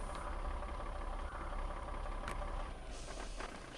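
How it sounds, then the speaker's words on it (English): A truck engine idles in SnowRunner, a steady low rumble with a constant mid-range hum, close and continuous throughout with no voices over it. "So stop the engine."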